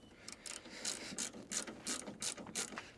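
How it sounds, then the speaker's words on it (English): A 10mm ratchet clicks out Subaru headlight bolts in close, rapid bursts of pawl ratcheting. About six short runs of clicks are separated by brief pauses, with no talking. "You then need a trusty 10mm ratchet, and you're going to take out the headlights"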